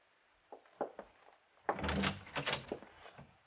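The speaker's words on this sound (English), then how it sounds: "Just open the door and walk right in." A door in an old radio drama opens with a few soft knocks and clicks, then a louder thunk and a rattling, scraping swing that fades away.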